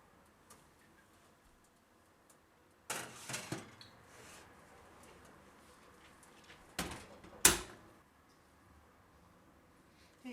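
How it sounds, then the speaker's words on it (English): A tray of gingerbread slides into a preheated home oven: a quiet stretch, then a burst of metallic clatter and rattling, later a couple of sharp clunks as the oven door shuts. "I'm just going to stick these in the oven."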